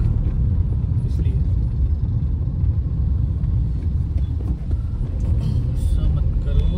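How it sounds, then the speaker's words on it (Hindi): Steady, loud road traffic rumble on a congested Delhi street near the Westin Hotel and MG Road, with dense low engine drone from cars and buses throughout, a faint air-brake hiss, and voices talking over it. "भाई साहब यहाँ क्यों ट्रैफिक है?"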